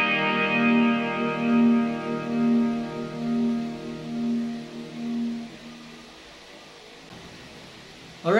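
A single low E string on a guitar detuned a half step to E flat rings out and slowly fades, heard alone with a faint effected, echoing tone.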